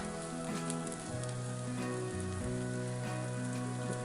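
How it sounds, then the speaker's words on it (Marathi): Onions being sautéed in a pan until reddish for a Kolhapur-style misal masala, a steady, close hiss of frying running evenly throughout under a quiet layer of background music. "मी कांदा पण लालसर होईपर्यंत परतून घेत आहे."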